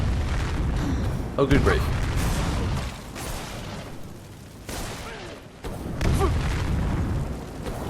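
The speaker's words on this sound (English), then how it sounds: "Enough of the fire magic." Fire magic spells blasting in Skyrim, heavy booming bursts and a roaring rush that come in waves with quiet gaps between them, while a voice talks briefly over the blasts.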